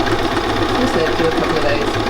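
A Bernina 570QE sewing machine stitching a bold triple stitch, its steady mechanical whir running unbroken and fairly loud throughout.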